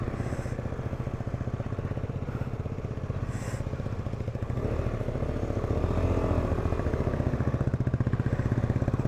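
A motorcycle on a ride from Rishikhola toward Kolkata through the Kalimpong hills rumbles steadily and close, its engine chugging in an even rapid pulse with rattling clatter, and a few faint higher squeaks overhead.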